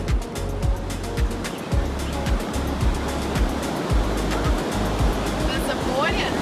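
Heavy ocean surf pounds steadily at the Mexico–US border fence on the coast, a loud, continuous wash of breaking waves with rhythmic low thumps, close and powerful, with no voices over it.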